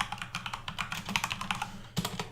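Rapid typing on a computer keyboard while writing C++ code, a steady run of close, crisp key clicks with uneven rhythm and a slightly heavier keystroke near the end, no voices.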